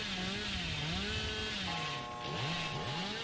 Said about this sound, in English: Ooh! And that'll almost be Jinxie tasting the back of that chainsaw.